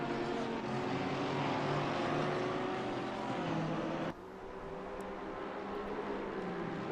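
A Porsche GT race car engine in the Assetto Corsa Competizione video game, a dense, steady engine drone that drops abruptly partway through and then carries on, with no talk.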